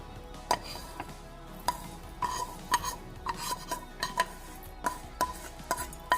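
A utensil scrapes and clinks against a kadai, stirring fried rice with salt in irregular strokes with sharp metallic taps, close and fairly quiet, with no one talking.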